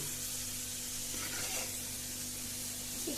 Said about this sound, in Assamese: মই এতিয়া হাফ ফ্ৰাই কৰি লম।